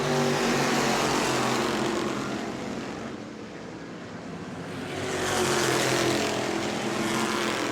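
Race cars circle an oval track at New Smyrna during a family fun night, a steady loud engine roar that dips slightly as the pack moves away and swells again as it returns, with no talking.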